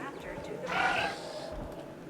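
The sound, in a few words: goat bleating in the video game Jurassic World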